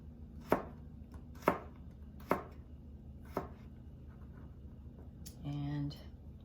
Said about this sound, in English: just cut it in really small slices